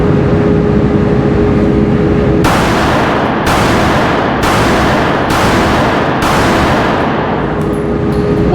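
Pistol shots fired through a red dot sight, five sharp broadband reports in a steady rhythm about one second apart, loud against a constant outdoor rumble.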